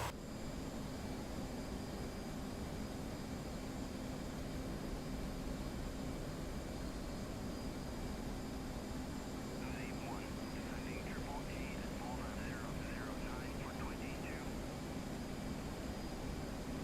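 An F/A-18 jet engine drones in DCS World as a constant broadband roar, steady and loud throughout, with faint cockpit tones flickering briefly near the middle.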